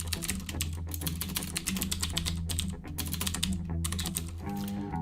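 Rapid, steady clatter of keys on a computer keyboard as an address is entered, close and continuous for several seconds over a low background hum.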